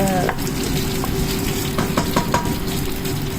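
Meat for pinapaitan sizzles and fries steadily in a pan, a loud close crackle with occasional stirring scrapes throughout.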